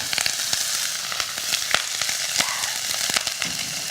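Salmon sizzles in a pan over high heat, a loud, dense, continuous frying hiss peppered with sharp crackles and spits throughout.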